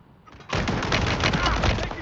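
Automatic gunfire in the Warzone 3 Plunder video game breaks in abruptly and runs as a dense, steady, continuous burst until the end.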